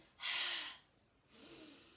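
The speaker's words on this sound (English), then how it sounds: "we let the air out through our mouths as we bring our tummy muscles in" Two breaths from belly breathing, a forceful breathy rush of air exhaled through an open mouth followed by a softer second breath, close and clear in a quiet room.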